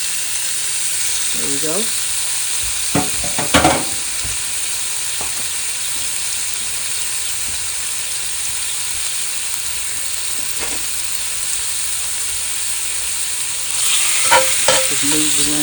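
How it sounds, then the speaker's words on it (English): Breakfast bacon fries in a pan with a continuous, close sizzle and crackle. A few clanks of utensils and a brief spoken remark sit over the frying. "we're just going to get that fried until it gets crisped up"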